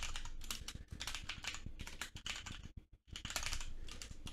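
Fast continuous typing on a computer keyboard while programming, dense rattling keystrokes with one brief pause midway, close and steady, no voices.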